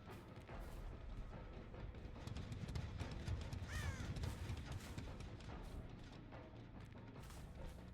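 A crow cawing in a video game, a few harsh calls rising over a dense, steady bed of ambient game noise.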